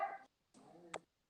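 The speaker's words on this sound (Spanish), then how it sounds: "Están peleando, son 2 huskies que se están peleando" Two huskies fighting at a distance, heard as short bursts of yelping barks and whines separated by silence, faint and far off.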